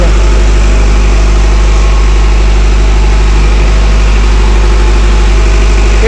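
Intergen MWM 40 kVA diesel generator engine idling steadily while it warms up, a loud, constant low rumble with a strong hum and no break or change in pace.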